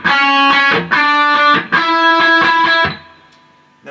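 Electric guitar plays a short melody on top of ringing dyad chords, with bright sustained harmonic notes in rhythmic repeated phrases, lightly distorted, stopping abruptly before a faint pickup at the end.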